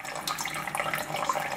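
Water streams from a tap in a continuous, bubbling flow with light splashes, steady and close, with no voices.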